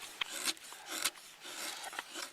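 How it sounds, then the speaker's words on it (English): An ESEE 6 knife with a full flat grind carves fine shavings from wood in repeated close, dry rasping strokes, each stroke a short scrape at an uneven rhythm with no voices. "just the great edge they put on this knife, I can get real fine shavings done"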